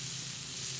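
Zucchini sizzling in butter and grease on a Blackstone griddle, a steady close frying hiss with no voices for a brief moment.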